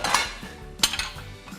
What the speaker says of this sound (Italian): Aspetta che prendo i piatti.